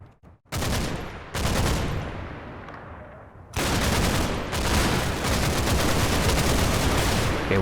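A Bren machine gun fires long bursts in a Combat Mission: Battle for Normandy battle, dense rattling volleys starting abruptly, briefly dropping away, then resuming loud and sustained to the end.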